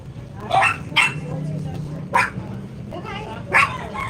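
A puppy gives a few sharp, short barks and yips, spaced irregularly over a low background hum, fairly close by.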